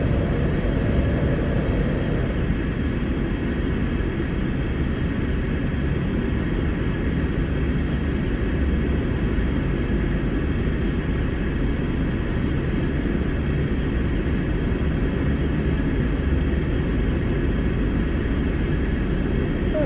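Sepecat Jaguar jet in Microsoft Flight Simulator 2020, a steady loud roar with a constant low rumble and high whine that holds unbroken and close for the whole stretch, with no talking.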